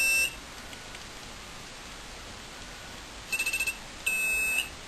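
Touchtone keypad dialing tones sound from a telephone driving an intercom station-signalling system: a short beep at the start, then a rapid burst of five quick pulsed tones and one longer steady tone, faint and clean over low hiss.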